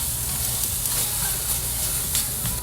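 Salmon and ginger sizzle steadily in a hot pan, a dense, continuous hiss with occasional small pops, close and fairly loud.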